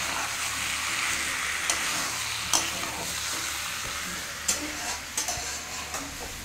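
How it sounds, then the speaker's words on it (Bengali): Chicken pieces cook in yogurt without oil, a dense continuous sizzle with occasional sharp clicks and scrapes of a utensil stirring against the pan, close and loud. "শুধু তেল ছাড়া দই দিয়ে চিকেন কষা।"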